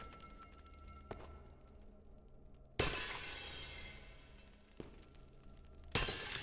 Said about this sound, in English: I just come in and start smashing all of their earthenware pots